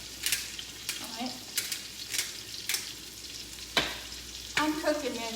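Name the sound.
food frying in butter and garlic powder in iron skillet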